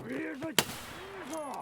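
A single 7.62x51 DMR rifle shot cracks out loud and abrupt in Escape From Tarkov, set against soft game ambience and faint tonal sweeps.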